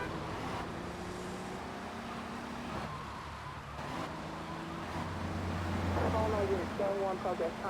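A car drives steadily through the streets of GTA III Definitive Edition, its engine a continuous drone with road noise, while a voice talks over it.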